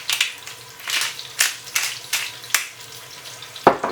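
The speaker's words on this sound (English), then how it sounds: "Fry that egg." An egg fries in a pan with crackling sizzle that swells in repeated bursts, close and moderately loud, ending with a sharp clink.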